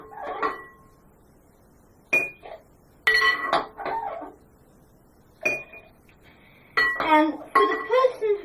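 Drinking glasses picked up and set down on a kitchen counter while drinks are served: several bright, close clinks and knocks at irregular intervals, with short gaps of near silence between them.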